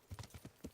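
Horse hooves clip-clop in the medieval game Kingdom Come: Deliverance, six or so quick, even hoofbeats at a trot, close but soft, with no talk over them.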